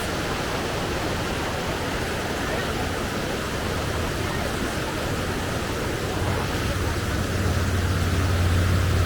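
Steady broadband rush of a Colorado river flowing close by on a summer hiking trail, loud and continuous throughout, with people talking over it.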